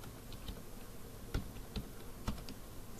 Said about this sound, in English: It wants me to type in a header, and I'll just put in something